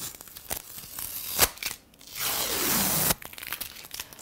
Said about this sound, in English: take the tape off